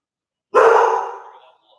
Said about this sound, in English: And my dog is barking.